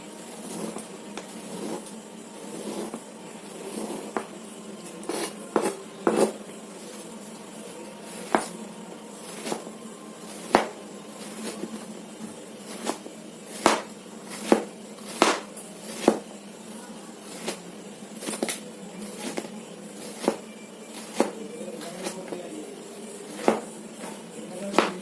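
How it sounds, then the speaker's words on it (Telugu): Ridge gourd being chopped with a knife on a board, a long series of sharp, close thuds at an uneven pace, some in quick pairs, over a steady low background hum. "ఇప్పుడు ఇవి కట్ చేసేసుకుందాం ఫ్రెండ్స్."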